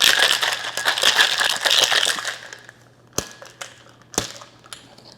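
Ice rattling hard inside a cocktail shaker, shaken in a dense burst for about two seconds, then a few separate loud knocks as the shaker settles, all close up.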